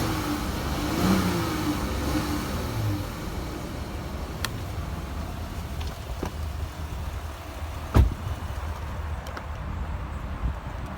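A car engine idling steadily with the battery disconnected, then given gas, a faint low rumble with mild revving rises and falls, plus a sharp click partway through.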